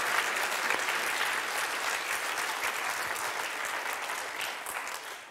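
A church congregation at an Ascension service applauding, a steady dense wash of clapping from a full room that holds level and fades slightly at the end.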